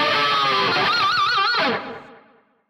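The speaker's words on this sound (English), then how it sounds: "And if you can get a pinched harmonic to come out on that one," Distorted electric guitar plays a single pinched harmonic on the G string at the 12th fret. It rings out alone as a squealing note with wide, even vibrato, then cuts back and fades over about a second.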